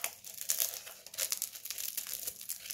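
Raffia packaging being opened, a dense run of crinkling and crackling plastic rustles close to the ear with no voices.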